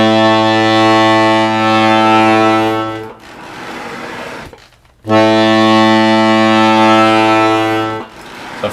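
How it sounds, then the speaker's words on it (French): Diatonic accordion holding a pulled A note while the air valve is opened, a loud sustained reedy tone, then a hiss and quiet gap, then the note returning just as strong. "tu vas commencer à faire un la tiré, puis tu actionnes ta soupape d'air et tu essayes de maintenir le son à la même hauteur"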